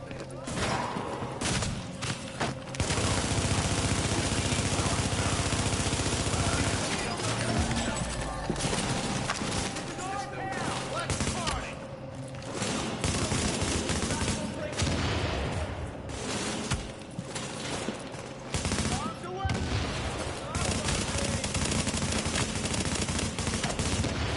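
Gunfire rattles from the Tom Clancy's The Division video game in bursts and rapid volleys. Scattered booms and other in-game noise fill the dense, loud mix throughout.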